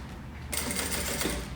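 A sewing machine starts up and runs steadily, stitching the seam of a fabric tote bag with a fast, even, close-up whir that continues without pause.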